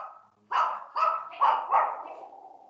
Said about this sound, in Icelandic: það er einhver hundur geltandi